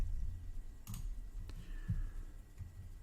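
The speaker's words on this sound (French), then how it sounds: "Et on a juste à cliquer." Mouse clicks on a computer while setting up page access in Facebook's settings, two or three faint, sharp clicks spaced apart over low room hum, no voices.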